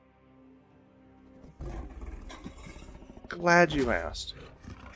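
A creature's roar, dragon or lion, bursts out loud and close with a rising snarl after quieter background rumble, with people talking briefly beforehand.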